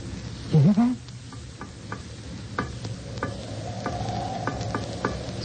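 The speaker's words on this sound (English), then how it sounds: "It's tapping out an SOS." Sharp, evenly spaced metallic taps ring out on a metal hull in an SOS pattern, faint and muffled beneath a low background rumble, with a brief vocal sound near the start.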